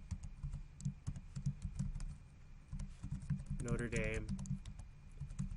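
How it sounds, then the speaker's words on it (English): Rapid clicking keystrokes on a computer keyboard while a file name is entered, steady close-up typing with a brief spoken phrase partway through. "this is one where we just simply type the name in here as well"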